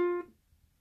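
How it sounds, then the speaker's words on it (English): One plucked ukulele note on the E string, held at the first fret, sounds bright and close with rich overtones, then is cut off after a fraction of a second into near silence. "your first finger will be on the first fret of the E string, which sounds like this"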